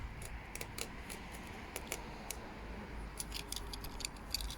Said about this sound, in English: So cut around the net,